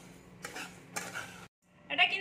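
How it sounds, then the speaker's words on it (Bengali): A spoon stirs a cooked mixture in a pan, giving two scraping, clattering passes, a brief pause, then another scrape with light metallic clinks, close up. "এইটা এবার সব কিছু মিশিয়ে দিচ্ছি"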